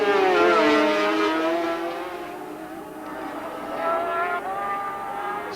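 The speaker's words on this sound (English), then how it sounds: "It seems that Vic Jefford's engine is just so quick down that back straight" A racing sidecar engine screams down a back straight at a 1980s sidecar race, a loud, sustained high-pitched whine that holds steady and then rises again as it pulls away.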